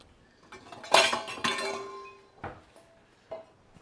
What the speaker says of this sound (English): Getting our mushrooms and onions out of our pan, because we're going to use the pan again.